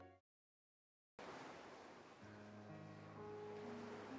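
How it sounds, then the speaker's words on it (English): Sea waves in the fantasy game The Last Chronomancer roll as a steady, full wash of surf after a brief moment of silence, with a low tonal drone rising beneath the water toward the end. "The sound of the sea is quite relaxing."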